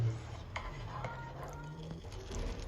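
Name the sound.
stirring king prawn fried rice in a pan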